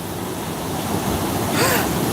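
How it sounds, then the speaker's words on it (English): Ocean waves crash in a steady, broad roar of surf, with a louder surge swelling near the end, outdoors and unaccompanied by talk. "Look at these waves, man. This is crazy."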